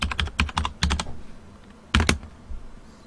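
Computer keyboard keys clacking in quick irregular bursts as values are typed into a database table, a pause, then another short flurry of keystrokes, close and fairly loud.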